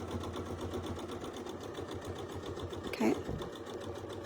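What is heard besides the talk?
sewing machine stitching quilt circles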